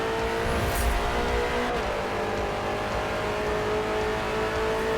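Race car engine held at full throttle in the video game Forza Motorsport, a Ford versus Ferrari endurance race, droning loud and steady with sustained harmonic whine throughout, no talk.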